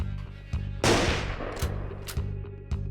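Gunfire in the video game Long Gone Days: several sharp, loud shots ring out at irregular intervals over a low, steady game soundtrack hum, one heavier blast with a longer decaying tail.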